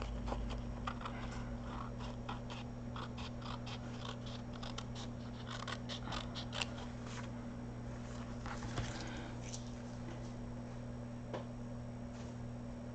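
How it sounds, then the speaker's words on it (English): Scissors trim excess paper off a journal envelope with soft, irregular snips and crisp rustles, close and quiet over a steady electrical hum, with no talking. "I'm just trimming the excess off"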